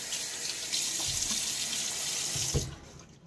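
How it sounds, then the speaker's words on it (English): Water runs steadily from a bathroom tap into a sink for about two and a half seconds, a close, even rush with a few splashes, then cuts off. "now it's time to get my face wet"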